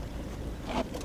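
A boat engine running aboard a replica Phoenician sailing ship during anchoring at sea, a steady low rumble mixed with wind and water noise.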